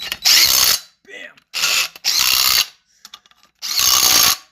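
A ratchet tightening the engine mount bolts of a 6.0 LS swap into a 1999 K1500 Suburban: four loud, close bursts of rapid clicking separated by short pauses and faint handling noises.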